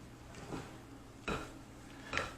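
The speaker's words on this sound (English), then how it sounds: "I'm literally folding these egg whites in" A spatula folds egg whites into keto pancake batter in a bowl, giving quiet soft scrapes and a couple of light knocks against the bowl side, faint and close.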